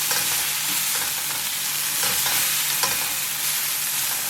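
Noodle soup ingredients for Bogor-style soto mie cook gently in a pan while being stirred, making a loud, dense sizzle with soft rhythmic scraping taps and no talk.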